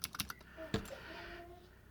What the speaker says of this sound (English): you get your full clicking action inside your thumb clusters